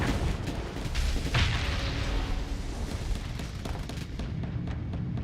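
A missile strikes a ship in the space combat game Starsector, a dense rumbling barrage of impacts and booms with one sharper hit standing out, sustained and loud before easing off.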